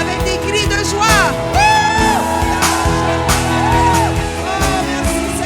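A church congregation shouts and whoops with joy, voices rising and falling in exuberant cries over a loud, continuous bed of music and crowd noise.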